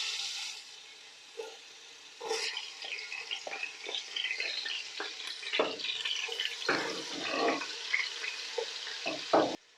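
Ginger and garlic sizzle in plenty of hot oil in a handi for Pakistani-style chicken handi. A steady, close frying hiss is broken by scraping and stirring knocks, with no talking.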